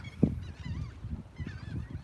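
Noisy geese honking in a rough chorus, with one loud close honk near the start followed by overlapping nasal calls and squawks from several birds.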